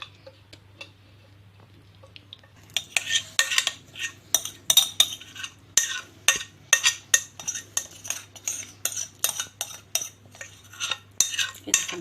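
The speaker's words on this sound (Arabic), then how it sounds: "هنفضيه بس في طبق نضيف كده، ولا غويطه برضو" A utensil scraping and tapping against a plate as cauliflower batter mixture is emptied into a clean dish, a quick run of clinks and scrapes that starts faint and turns into a steady rhythm of sharp metallic taps, close by, with no talking.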